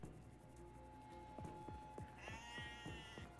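Sheep bleating in the horror video game Sker Ritual, short wavering cries over a low ambient drone, with a few soft footstep-like thumps.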